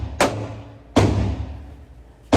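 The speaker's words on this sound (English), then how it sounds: "So here I'm shooting the steel case, and I shot all 50 rounds through the 365" Three sharp, loud pistol shots from a Sig Sauer P365 XL firing steel-case ammunition on a range, spaced roughly a second apart, each with a short booming decay and no talk.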